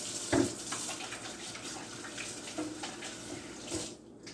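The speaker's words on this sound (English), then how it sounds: "Let's go ahead and wash our hands." Tap water runs into a sink while hands are washed under it, a steady close splashing rush with a few louder splashes near the start before the flow cuts off.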